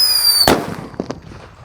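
A Whistling Thunder firecracker gives a single sharp, loud blast after a high whistle, followed by a couple of fainter pops as the noise dies out, with no talking.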